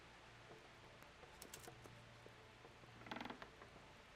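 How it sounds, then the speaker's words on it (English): A wooden door creaks shut in Kingdom Come: Deliverance, a faint medieval-setting game, with quiet creaking and a brief cluster of sharp clicks near the end over a low background hum. "maybe just shut the door in case he wanders past as I'm in here."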